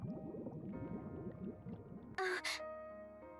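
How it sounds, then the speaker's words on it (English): Water bubbles up in a short, bright gurgling burst inside the game Goddess of Victory NIKKE, breaking out after a quiet stretch of soft background music. "Levi opens her eyes at the sound of something bubbling"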